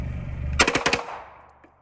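A rapid burst of about four or five gunshots from a Draco pistol, loud and close, then a fading echo and brief quiet.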